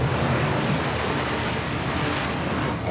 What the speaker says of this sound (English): When big waves or strong winds come